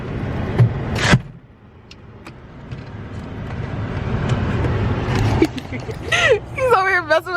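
Someone climbs into a car on a snowy day, with a door thump and mechanical creaks amid outdoor rumble, while people talk nearby throughout.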